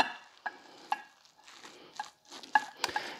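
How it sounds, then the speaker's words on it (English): Squash fritter batter being stirred with plain flour in a bowl, a series of soft wet scrapes and light clinks of a utensil against the bowl, close and moderately quiet, with no talking. "Just give this a good mix."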